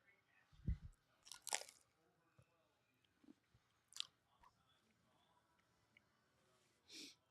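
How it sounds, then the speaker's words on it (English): Chewing and biting on food right up against a microphone, with a few separate crunchy bites and mouth noises spread across quiet stretches, heard during a live hockey watch party for the Flyers against the Bruins. "Keep realizing I'm chewing into the mic."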